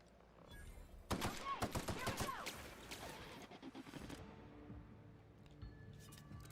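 Rapid bursts of pistol fire in a video game, a dense volley of sharp shots tapering into scattered single cracks, fairly quiet overall.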